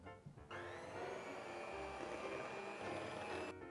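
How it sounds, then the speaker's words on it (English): An electric mixer beating room-temperature cream cheese in a bowl, a steady whirring motor hum with a brief stop and restart, close and continuous. "beating your room temperature cream cheese in a bowl"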